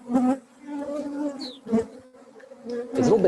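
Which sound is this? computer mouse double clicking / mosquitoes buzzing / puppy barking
mosquitoes buzzing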